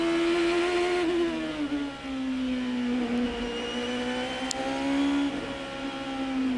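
A Champ Car race car engine is heard onboard with Will Power at the Edmonton street circuit in 2007, a loud, steady high-pitched drone. It rises and falls slightly in pitch as the car goes through gear and throttle changes, with no talking.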